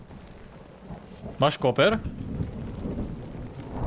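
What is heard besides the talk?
thunderstorm in a video game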